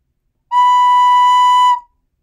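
Recorder sounds a single clear B note, held steady for about a second with a sharp start and a short fade, loud and close with no talk.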